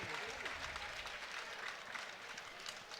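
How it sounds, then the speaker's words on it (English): Essendon Doutta Stars supporters at a Division 1 EDFL grand final against Craigieburn, a dense, continuous roar of cheering and clapping from a large crowd, loud and close throughout. "when they get a goal down here, this crowd erupts"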